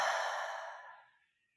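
A deep, slow exhale during yoga breathing practice, a soft breathy sigh close up that starts full and fades away over about a second and a half, alone without talk.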